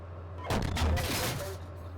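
Heavy cannon or gun fire in the tank simulator game Steel Beasts, a loud burst with a deep booming rumble lasting about a second over a steady low engine hum.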